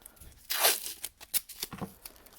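Strips of duct tape are pulled off a Pontiac Bonneville radio panel in a few loud, ripping tears, with softer crinkles and short peels in between.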